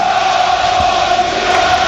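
Luton Town supporters at a football match against Middlesbrough, a dense, steady crowd roar filling the stadium, loud and continuous with no single voice standing out, late in a 3-3 game.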